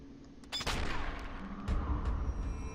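A single muffled sniper rifle shot using subsonic ammo in Sniper 4 cracks out, followed by a second dull report and low rumbling game ambience.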